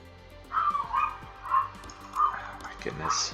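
A dog gives a few short yips and whimpers, four or five moderate calls spread over a few seconds at close range.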